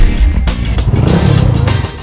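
A Bajaj V15 150cc motorcycle engine runs loud and close, a low, throbbing drone with a few rising revs and a steady rumble throughout, no voices over it.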